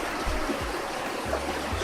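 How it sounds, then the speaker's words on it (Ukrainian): A river rushes below a small footbridge in a steady, fairly loud broadband wash of flowing water, with no voices. "І там знизу вже річка."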